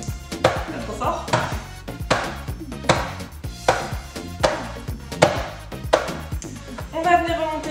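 A cake mould for a mango, coconut and passion fruit entremets is tapped gently on a kitchen counter, giving a steady series of about ten light, close knocks with a pitched ringing tail near the end.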